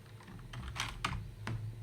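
A few distinct keystrokes tap on a computer keyboard at close range, spaced unevenly over a quiet background.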